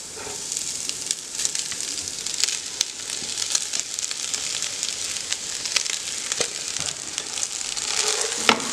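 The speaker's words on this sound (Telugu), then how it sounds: "ఇప్పుడు నేను ఇందులో మనం ముందుగా కుక్ చేసి పెట్టుకున్న రైస్ అనేది వేసేసుకుంటాను" Precooked rice is tossed and stir-fried with vegetables in a hot pan, making a steady bright sizzle with scattered crackles and scraping stir strokes throughout, with no talking.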